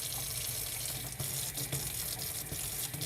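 Warm water from a wood-fired hot water tank running from a tap: a steady, close hiss of flowing water that continues unbroken, with no talk.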